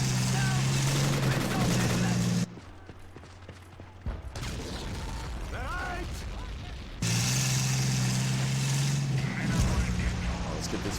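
A Panther tank in the World War II strategy game Men of War rumbles and clanks with a steady low engine drone, cutting out for several seconds midway among battle noise before returning loudly.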